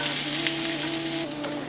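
Food sizzles steadily in an oiled pan, a dense, continuous hiss with a few sharper pops, close and fairly loud with no talking over it.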